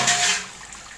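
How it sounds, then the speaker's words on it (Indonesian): Clean water poured to soak soybeans for tempe: a brief, loud, rushing splash that fades over about a second, close by, with no talking. "Kita rendam dengan air bersih."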